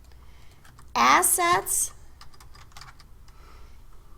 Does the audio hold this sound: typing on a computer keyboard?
yes